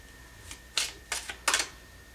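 A tarot card drawn from the deck during a reading gives a few quick, close papery swishes and slides, three main bursts in about a second, with no talking over them.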